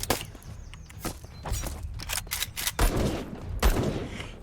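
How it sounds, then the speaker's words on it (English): Sharp gunshots from a sniper rifle in the Black Skylands video game crack in irregular succession, several close, punchy reports mixed with quick whooshes and clatter. "Really decent damage output with the sniper rifle."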